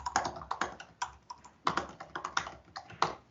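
Typing on an aged computer keyboard from 2017: a steady run of close, crisp key clicks in irregular bursts, heard alone with no voices.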